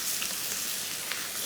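Napa cabbage sizzles in a skillet with a dense, close, continuous frying hiss and faint crackles, no voices present.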